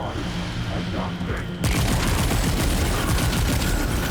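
Rapid gunfire in the shooter game Remnant 2: after a quieter stretch, a dense burst of loud, continuous shots erupts abruptly and keeps going to the end.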